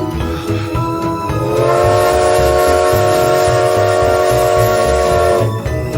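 Train sounds from the game Model Train Simulator: a loud, sustained whistle-like tone swells in and holds steadily for several seconds over a continuous rolling rumble, then cuts off near the end.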